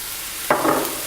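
Thinly sliced garlic drops into a hot pan and bursts into a sharp sizzle halfway through, then settles into a steady crackling fry.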